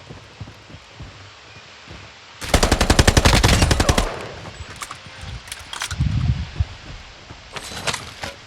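Gunfire in a video game: a rapid burst of automatic fire lasts over a second, then comes scattered distant shots and rumbling under a steady game ambience.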